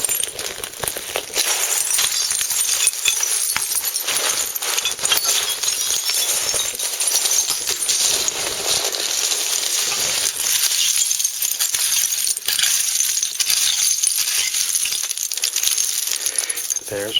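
Old glass bottles clink and chink continuously as they are dug out of a hillside dump with a rake or shovel, a dense stream of bright glassy rattles and scrapes close by.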